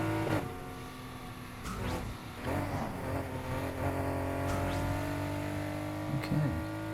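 A race car engine in Need for Speed Heat roars at high speed through night-race corners around 150 mph, a steady droning whine with brief bursts and shifts, under a little faint background sound.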